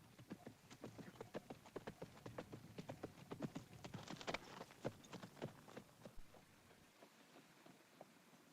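A horse walking under a rider, its hooves clip-clopping in a steady, fairly close rhythm of distinct knocks that carries on for several seconds before fading near the end.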